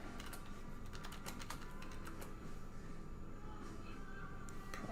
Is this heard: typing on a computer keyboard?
yes